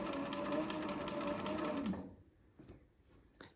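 A Cobra 26 leather sewing machine stitches a scrap of leather in a small shop, running steadily and loudly for about two seconds before stopping, followed by a few faint clicks and handling sounds.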